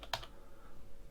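A short burst of computer keyboard typing while a component name is entered in SketchUp, a few quick clicky keystrokes up close and then a quiet pause.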